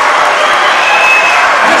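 Crowd noise filling a high school basketball gym during a boys' game between Union County and Henderson County, a steady loud roar of many voices held throughout with no break.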